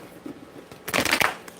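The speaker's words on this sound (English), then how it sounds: "I am shuffling the heck out these cards" A deck of tarot cards is shuffled in a quick burst of riffling flutters, close and fairly soft, after a brief pause of quiet handling.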